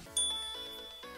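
A bright bell-like ding rings out twice in quick succession, clean and close, with a short ringing tail after each strike and no voices.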